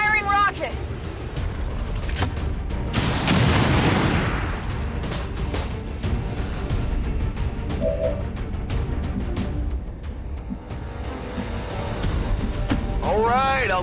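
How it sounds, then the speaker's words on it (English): A rocket is launched and blows up in XCOM 2: War of the Chosen, a loud, broad boom swelling over a couple of seconds amid a dense battle soundscape of gunfire and game noise, with voices heard now and then. "Firing rocket!"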